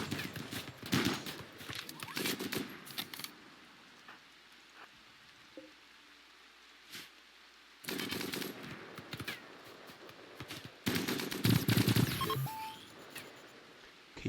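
Gunfire in a RimWorld battle crackles in dense rapid bursts, loud stretches broken by quieter gaps, with scattered impacts in between.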